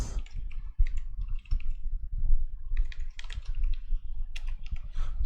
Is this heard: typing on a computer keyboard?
yes